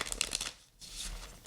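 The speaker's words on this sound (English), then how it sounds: "I'm going to shuffle the cards really quick" Tarot cards being shuffled quickly, a short burst of riffling flutters, a brief pause, then a softer run of shuffling, close and fairly quiet.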